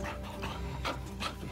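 A pet dog named Sally or Ollie pants softly nearby in quick, steady breaths, with a couple of faint breathy bursts, fairly quiet and with no talking.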